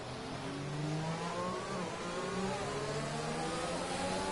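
Williams Formula 1 car engine in a racing game, heard from the onboard camera during a wet-weather race in Canada, a steady whining drone with rising and falling rev tones held throughout.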